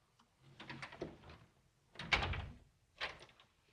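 Interior doors of a 1930s house being shut and locked, giving three separate bursts of clunks and latch rattles spaced about a second apart, fairly close and moderately loud, with no talking.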